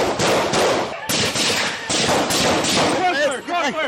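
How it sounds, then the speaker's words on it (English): Police gunshots fired at a man holding a knife outdoors, a burst of sharp loud cracks in quick succession, followed by shouting voices. "Shots fired, shots fired."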